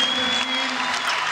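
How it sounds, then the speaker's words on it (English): A crowd at Manchester Central gives a standing ovation after a squash world championship final, a dense, loud wash of sustained clapping and cheering. "The crowd all on their feet here at Manchester Central. Standing ovation."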